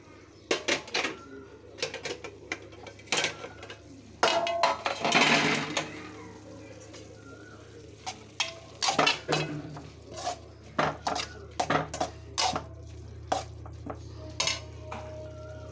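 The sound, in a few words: stirring curry in a pot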